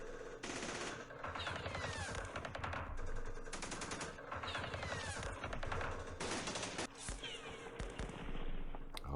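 Loud, continuous bursts of automatic gunfire from a battle in the war game Campaign Series Middle East, dense rattling volleys that pause briefly and then resume, with no voices.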